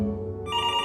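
A telephone rings in a video game, a single electronic ring tone sounding loud and close, its pitch shifting upward partway through, with no talking.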